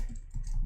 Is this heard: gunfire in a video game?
no